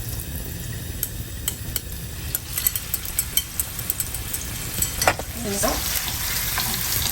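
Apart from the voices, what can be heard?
meat mixture frying in hot oil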